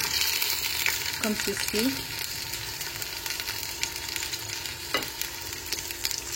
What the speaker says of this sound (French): j'ai déjà allumé ma casserole d'huile, avec un petit peu d'huile que je vais rajouter la viande